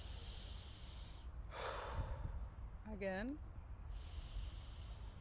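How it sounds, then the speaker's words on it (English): A person takes a slow, deep breath: a long airy inhale, then a sighing exhale with a voiced, falling tone, close and soft against a steady background hiss. "Take a deep breath with me."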